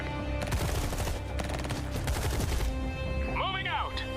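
Rapid bursts of gunfire from units in the real-time strategy game Tempest Rising, loud and dense over the first half, with a game soundtrack running beneath and a rising electronic sweep near the end.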